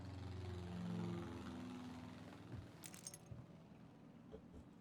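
Keys jangling as they are picked up in the video game Tell Me Why, a short metallic rattle that stands out above a steady low engine-like hum and dies away quickly, with no voices.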